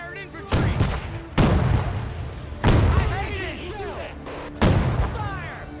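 Loud bursts of gunfire from units in the WW2 strategy game Men of War 2, with four heavy booming volleys a second or so apart, each trailing off into echo and crackle.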